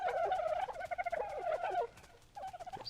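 Gobbling, turkey-like clucks from dodos in Ark Survival Evolved run almost continuously, with quick stuttering pulses. A brief pause comes before a final shorter burst of calls.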